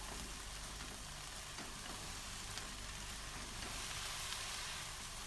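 Tempe frying and being stirred in a pan with seasonings and sweet soy sauce, a steady close sizzle with faint scraping underneath, no talking.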